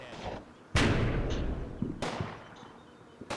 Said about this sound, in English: the medium machine gun team are firing at it from there